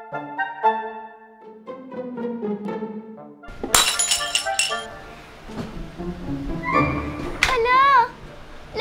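A drinking glass shatters with a sudden bright crash and scattered tinkling shards, after a stretch of clinking dishes being cleared from a table, with a voice nearby.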